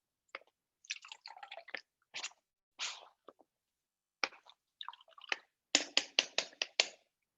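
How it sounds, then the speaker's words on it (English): Almond pulp squeezed by hand to press out homemade almond milk, giving wet squishing and squelching bursts, scattered at first, then a quick run of five or six firm squeezes near the end, close and fairly faint. "don't be afraid to just squeeze the milk using your hands because there is still a lot here"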